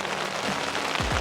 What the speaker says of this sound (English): I've woken to the sound of a lashing rain